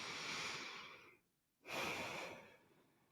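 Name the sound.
deep breathing, full inhale and exhale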